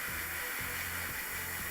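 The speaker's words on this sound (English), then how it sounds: "let's come in here and start spraying on the liner of this coat on the inside here" An airbrush sprays red paint onto the inner coat liner of an Astra Militarum commissar miniature, giving a steady, close, airy hiss that runs unbroken throughout.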